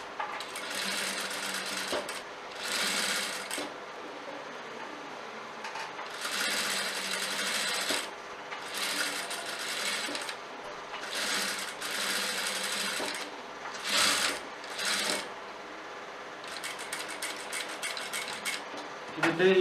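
Domestic sewing machine stitching a kurti collar from the shoulder joint, running in repeated bursts of rapid mechanical whirring with short pauses between runs, close and steady.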